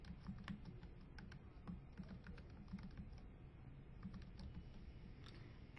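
Fingers tap out a password on a computer keyboard in a quiet room, a quick run of soft, light keystrokes with brief pauses between bursts, heard close and alone.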